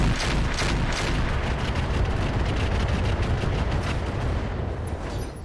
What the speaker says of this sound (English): We could fire the rotary AC-5 in X4 mode.